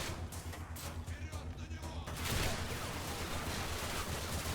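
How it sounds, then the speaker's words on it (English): Enemy gunfire aimed at the player in the video game Singularity, a dense, continuous barrage of shots that grows louder and heavier partway through, with a voice talking over it. "I love that they're shooting at me."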